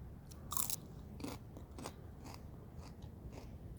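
Raw sprouting broccoli being bitten and chewed close up, with several soft crunches in an uneven rhythm and no talking.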